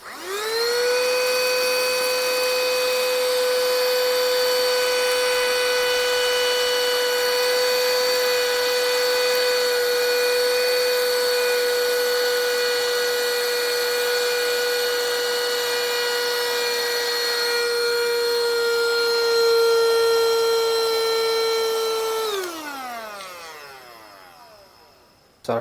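A handheld rechargeable mini vacuum cleaner with a brush attachment runs steadily with a high, even motor whine for about twenty seconds, then winds down with a falling pitch as it switches off, close and alone.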